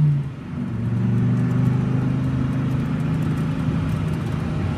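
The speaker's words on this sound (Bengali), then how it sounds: "উদয়গড়ের শেষ বাসটির হর্ন শোনা গেল।" A bus engine rumbles steadily at close range in a cartoon scene on a night road, without a distinct horn blast and with no voices.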